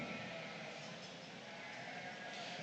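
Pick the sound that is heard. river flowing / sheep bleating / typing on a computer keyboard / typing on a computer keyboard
sheep bleating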